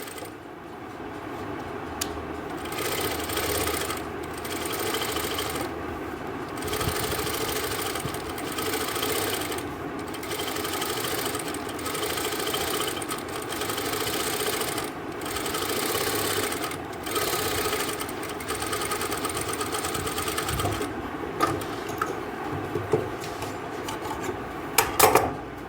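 A sewing machine runs steadily while stitching fabric for a suit, a continuous close mechanical whir and rasp with brief pauses and restarts throughout.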